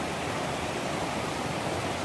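A creek pours over rapids as a steady, broadband rushing hiss that stays constant and close, with no other sounds.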